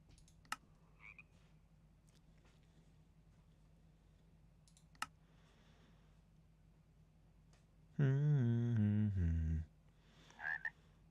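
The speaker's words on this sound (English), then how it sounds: "frogs are always nice" A short croaking frog call in the video game Last Call BBS, a single harmonic burst standing out over quiet background with a couple of faint clicks around it.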